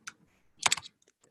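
Quick bursts of key clicks on a computer keyboard as a bucket name is typed, close and crisp, in two short clusters separated by a pause.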